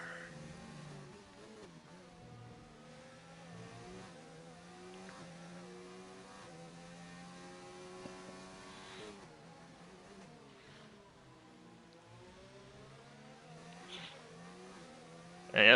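A race car in a racing video game rolls into the pit lane, its engine holding a steady, moderately loud harmonic drone with small pitch shifts, ending in a brief louder burst.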